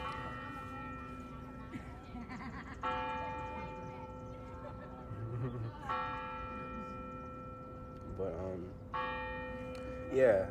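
A church bell rings with sustained, humming tones, struck again every few seconds so each new peal swells over the fading one, with faint voices in the background.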